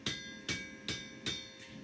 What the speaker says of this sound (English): I wanted to just have one more little straighten and alignment tap all the way around this thing one time here